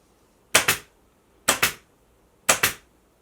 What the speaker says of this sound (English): And now I'm going to use my staple gun.